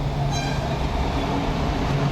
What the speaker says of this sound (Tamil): சென்னையில் வடபழனி போரூர் இடையேயான மெட்ரோ ரயில் சோதனை ஓட்டம் வெற்றிகரமாக நடத்தி